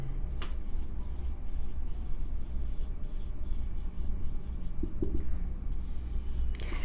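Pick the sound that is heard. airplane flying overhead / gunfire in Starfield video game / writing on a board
writing on a board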